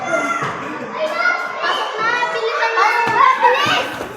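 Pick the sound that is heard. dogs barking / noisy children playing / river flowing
noisy children playing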